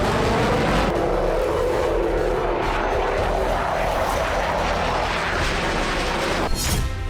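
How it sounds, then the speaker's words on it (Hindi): A large Russian aircraft known as the Doomsday plane roars steadily through takeoff and flight, a loud, continuous broadband jet rumble that holds for several seconds. "उससे पहले डूम्सडे प्लेन ने उड़ान भरी और कयामत का संकेत दिया।"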